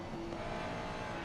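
Ferrari GT3 race car engine in a sim racing series at Silverstone, a steady, loud, buzzing drone that holds near and continuous throughout, with faint tire noise underneath.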